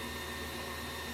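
An electric mixer whirs steadily as it beats coconut cream cheese frosting for a carrot cake, a continuous motor hum with no pauses and no voices.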